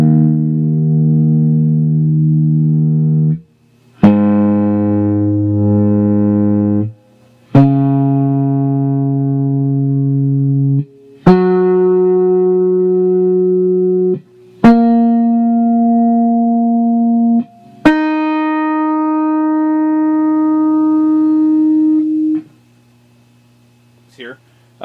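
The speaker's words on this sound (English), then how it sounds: "So let's start with the low E string." Open low E string on an electric guitar tuned down a half step, plucked and ringing several times in a steady sequence of sustained notes with short gaps, close and clear, with some tuner-like effect coloring.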